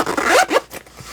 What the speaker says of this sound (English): Zip it up.